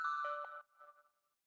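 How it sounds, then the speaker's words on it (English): Overdriven, heavily processed synth bell in an electronic dance remix, heard as a bright metallic tone struck twice in quick succession, then a fainter echoing tail fading out over about a second. "We reintroduced the bell again. This time with some more overdrive and some more processing to it."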